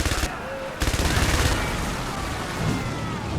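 Gunfire and a heavy blast in a military strategy game, with rapid machine-gun bursts, a loud booming hit, and a rumbling wash that trails off.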